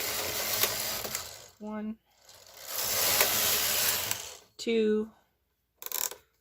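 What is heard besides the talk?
knitting machine carriage knitting rows in stockinette stitch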